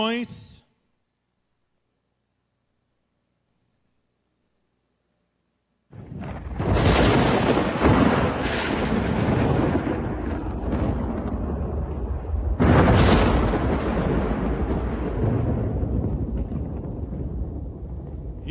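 Deep, heavy thunder rolls in after several seconds of near silence, a loud sustained rumble with a second crack-like surge partway through, filling the space without any talk.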